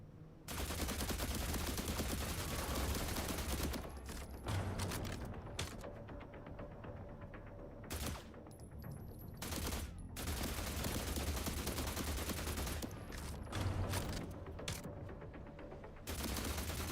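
Enemy gunfire in The Last Caretaker: sustained, dense bursts of rapid automatic shots, loud and close, broken by a few short pauses before resuming.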